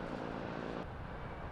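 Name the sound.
police helicopter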